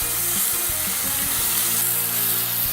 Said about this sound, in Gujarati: હવે એમાં છીણેલા ટમેટા ઉમેરી દઈશું